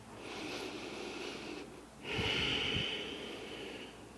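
Steady breathing during a yoga hip and knee stretch, with a long continuous airflow that pauses briefly then resumes as a stronger, nasal-sounding exhale, close and fairly quiet.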